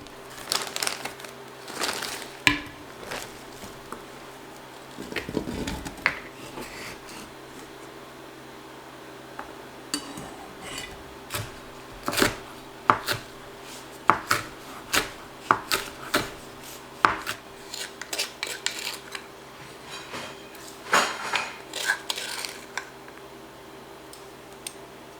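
Peppers, garlic and onion being chopped on a board for fermented hot sauce, with sharp knife strikes coming in irregular bursts and clusters, close and crisp, with no talking.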